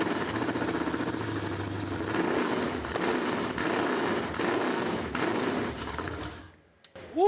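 A fuel-injected car engine, just fired up, runs at a steady rumbling idle, loud and close, with a few faint shifts in pitch before it quickly cuts off near the end.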